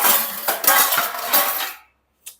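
Metal cutlery rattles and clinks as a kitchen drawer is rummaged for a spoon, a busy jangle of spoons and utensils for nearly two seconds, then silence and one last short clink.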